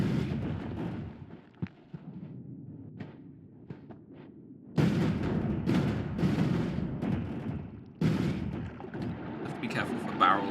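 Rumbling explosions blast away terrain while jetpacking through a cave in the game Noita, coming in loud bursts with crackling debris, the heaviest surges starting midway and again near the end, with a voice talking over parts.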